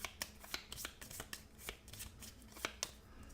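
Quick riffling and flicking of playing cards as a card is shuffled back into a deck for the Sentinels of the Multiverse card game, a rapid series of soft close ticks and slaps.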